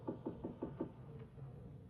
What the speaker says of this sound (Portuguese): Bate de leve a porta.